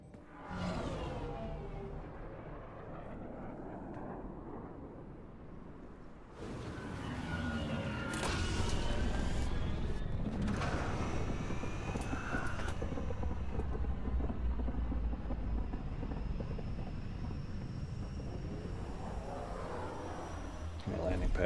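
A spaceship descends onto a landing pad in Mass Effect Andromeda, a rising engine whoosh swelling into a loud, sustained roar with hissing thrust that lingers close by.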